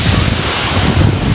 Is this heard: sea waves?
yes